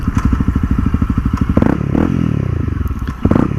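A Honda CRF dirt bike engine thumping at idle with rapid even pulses, then revving up and dropping back, the revs rising and falling again, loud and close.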